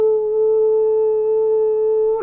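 A heart monitor holds a flatline alarm, one steady pure electronic tone sustained at an even, fairly loud level with no break for its whole length.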